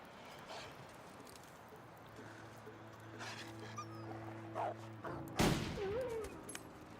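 A single rifle gunshot in The Long Dark cracks out sharp and loud after several quiet seconds of low wilderness ambience and faint creature sounds, followed by a short rustling tail.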